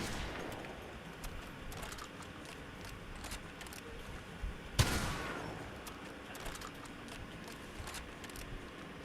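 Gunfire in a video game, with repeated sharp shots crackling over steady background game noise and one loud, close blast near the middle, no talking.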